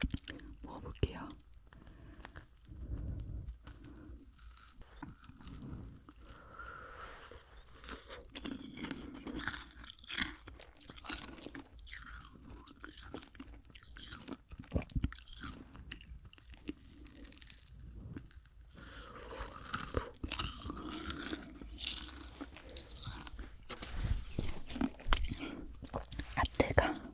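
Dalgona bread being bitten and chewed up close, with soft crunches and wet mouth sounds repeating through the stretch, plus faint whispery breaths.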